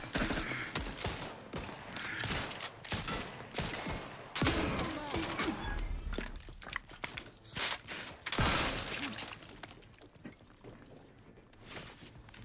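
Shotgun fire in the video game Outer Worlds 2, a series of sharp, loud blasts spaced irregularly with reload clicks and movement sounds between them, fading quieter toward the end.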